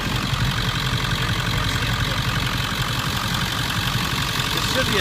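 A 1999 Ford F250 turbo diesel idles in a steady, dense rumble with a fast, even knock running through it, loud and unbroken throughout.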